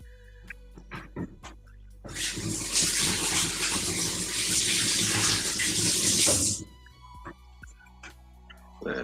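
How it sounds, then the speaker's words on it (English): A kitchen faucet gushes at strong water pressure while someone washes their hands, a loud rushing hiss that starts abruptly, runs for about four seconds and cuts off, with light clicks and taps before and after. "Man, damn, some strong ass water pressure."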